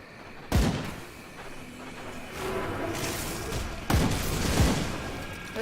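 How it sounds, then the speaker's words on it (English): Tombstones smashed in the action RPG Grim Dawn, two sharp booming impacts a few seconds apart with crumbling debris trailing off, over a steady layer of game combat noise and no talk. "I'm destroying all the tombstones"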